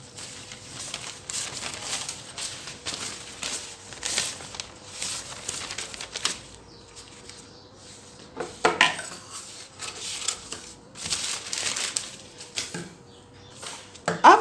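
Scissors snipping through paper while a blouse sleeve pattern is cut out, giving repeated crisp crunching and crinkling strokes with a steady background hum and short pauses between runs of cuts.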